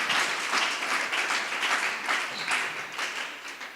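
A church congregation applauding during a worship gathering, a dense, steady crowd clapping that holds for several seconds, close and fairly loud.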